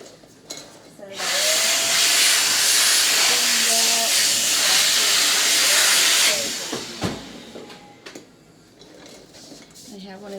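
A pet grooming clipper runs with a little oil on its blade, then a loud, steady blast of air hisses through it for about five seconds before cutting off, leaving quieter handling noises with faint motor tones underneath.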